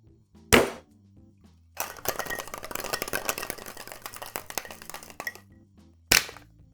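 Cocktail shaken hard in a shaker with ice, a rapid rattling burst lasting a few seconds, framed by single sharp clacks before and after, close and fairly quiet.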